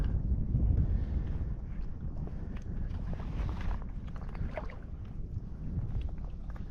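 Wind blows steadily across open water on an oyster bar where an angler is wading, a loud continuous rumble of buffeting on the microphone with faint splashing and movement mixed in.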